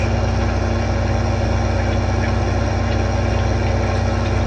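The engine of a Case IH 470 tractor in Farming Simulator 2015 runs steadily during tillage work, a constant loud, dense drone with a low hum that holds without change throughout.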